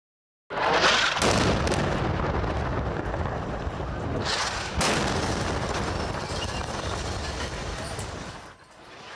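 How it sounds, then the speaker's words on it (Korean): Huge explosion from an airstrike on the Syrian defence ministry in Damascus, a sudden loud blast followed by a long rumbling roar with a second surge midway, close and overwhelming before fading toward the end. "시리아 국방부와 인근 건물에서 거대한 폭발음과 함께 뿌연 먼지 기둥이 치솟아 오릅니다"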